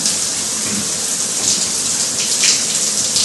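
Water rushes from a large flood-style shower head in a house, a dense, steady hiss that fills the whole stretch at even volume with no voices.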